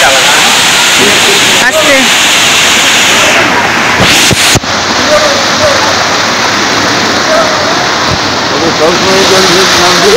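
Flowing water at an outdoor spot in Odisha rushes in a loud, continuous roar close by, with people talking over it now and then.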